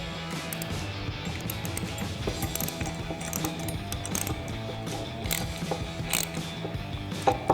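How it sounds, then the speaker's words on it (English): A ratchet with a 17 mm socket snugs down a lock nut on a light-mounting bracket kit for a 2014-2021 Toyota Tundra, giving steady close, loud rapid ratcheting clicks in continuous runs with no talking. "Now we're going to grab our 17 mil socket on our ratchet and snug this lock nut down."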